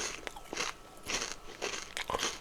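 Someone bites and chews a crunchy snack right at the mic, producing a series of sharp, close crackling crunches in irregular bursts, fairly quiet overall, with no talking.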